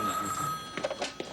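A telephone bell rings close by with a bright, sustained tone, then stops. A few short clattering sounds follow, as if the handset is being picked up.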